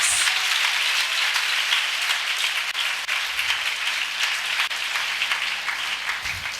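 A congregation at a church prayer festival snapping their fingers together, a dense, continuous crackle like rain or applause that holds steady throughout and fades slightly near the end.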